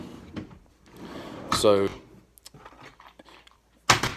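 Small, shallow storage drawers from Harbor Freight slide in and out of a cabinet in a woodworking shop. Several brief scraping rattles are followed by a sharp knock near the end, with someone speaking a word between them.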